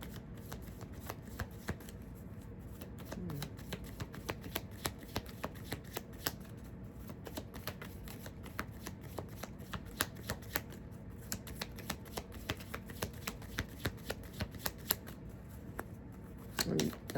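Tarot cards being shuffled over and over, a steady run of soft papery riffles and ticking snaps at close range that continues without a pause and with no talking.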